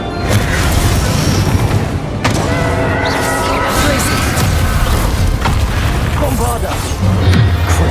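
A Bombarda spell blasts in Hogwarts Legacy during a trial fight, a loud booming explosion amid clattering combat effects and a voice, dense and continuous throughout.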